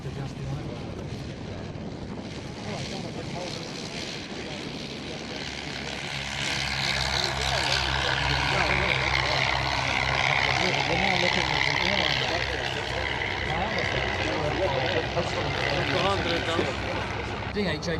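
Vintage British de Havilland DH-84 propeller biplane at an airshow, a steady droning engine and propeller roar that swells louder midway and holds, with wind buffeting and people talking nearby.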